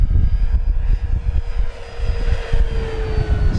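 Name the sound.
FMS Corsair 1700mm RC model airplane engine at full throttle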